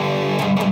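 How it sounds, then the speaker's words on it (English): A heavily palm-muted B flat on distorted electric guitar, a brief gritty sustained note with a couple of tight chugs, close and loud. "And then he goes to the B flat, and it's a heavy mute."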